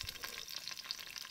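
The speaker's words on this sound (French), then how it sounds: "Faire frire l'ail et le basilic à basse température." Garlic and basil fry at low heat in a pan for a tomato sauce, giving a soft, steady sizzle with faint crackles and no voices.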